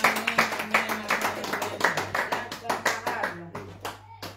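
A church congregation at a French-language worship service claps steadily in a brisk, even rhythm, loud and close, with voices and a held tone running underneath.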